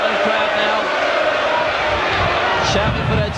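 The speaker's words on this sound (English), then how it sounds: "the Tottenham crowd now" A Tottenham football crowd at a 1988/89 league match against Charlton Athletic roars and shouts for their team, a steady loud wash of voices filling the stadium.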